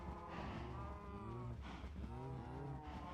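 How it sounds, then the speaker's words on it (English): A brown mushroom cow moos in a Minecraft-style video game, two long low drawn-out lows close up, with steady game ambience behind and no talking. "A brown mushroom cow."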